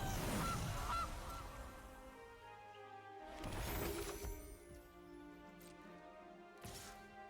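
Cartoonish goose honk sound effect from the Gilded Goose card in the MTG Arena digital card game, a loud squawk at the start followed by game interface chimes and crash-like effects, with no talk.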